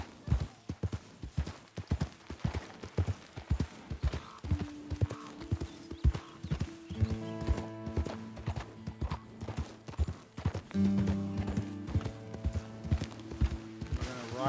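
Horse hoofbeats in Red Dead Redemption 2 while riding toward a burnt forest: a steady, close clip-clop rhythm of hooves running throughout, with creaking tack, a brief whinny and sustained musical tones rising partway through.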